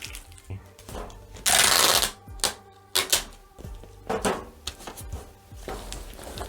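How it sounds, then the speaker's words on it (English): Packing tape screeches loudly off the roll and is pressed onto a cardboard shipping box, several long rips followed by short pulls and rubbing pats, close and with no one talking. "I know that freaking tape's probably killing y'all's ears"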